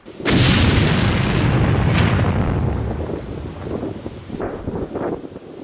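A deep, heavy explosion from a controlled detonation of an aerial bomb with an explosive charge in a trench bursts out and rumbles for a couple of seconds, then fades into a long low roar with gusty wind buffeting the microphone.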